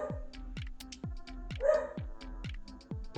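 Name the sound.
dog barking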